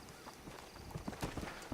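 Horse hooves clip-clop in the western game Red Dead Redemption, a quick uneven series of soft thuds fairly faint over a broad background wash, with no one speaking.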